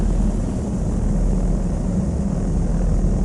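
A propeller aircraft engine in Flight Sim World holds a constant deep rumbling drone with an airy roar on top, loud and steady throughout, with no talking.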